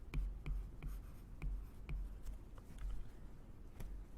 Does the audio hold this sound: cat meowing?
no